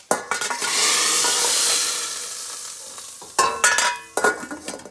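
Dal with tempered jeera being chunked in a pot for dhal alongside goat curry, a bright hissing sizzle that swells for a couple of seconds, fades, then returns in sharp bursts with light clinks.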